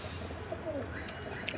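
A domestic pigeon coos, a low soft call over steady background hum, with faint bird chirps higher up; the sound is moderately distant and continuous through the short stretch.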